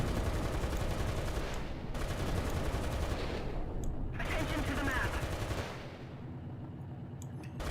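In a War Thunder tank battle featuring the Conqueror Mk.2, dense rapid machine-gun and gunshot bursts rattle continuously for several seconds. The firing sounds fairly close and loud, then drops into quieter rumble with a few scattered shots.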